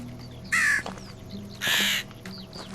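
A crow in Medieval Dynasty gives two loud, harsh caws about a second apart over quiet ambient game sound.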